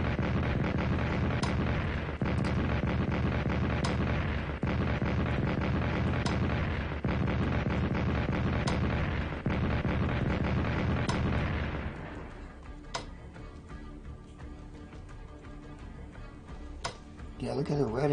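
Artillery shells fire in the Strategic Command WW1 strategy game, set in 1916, as a dense, loud barrage of booms recurring roughly every two seconds, then giving way to quieter scattered clicks and thumps.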